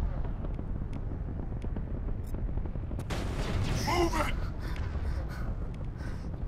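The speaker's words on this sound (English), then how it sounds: "I use my shotgun on them" Shotgun fire in the Mass Effect video game during the Bring Down the Sky DLC, aimed at Batarian enemies: a burst of blasts about halfway through, rising over a steady bed of game noise.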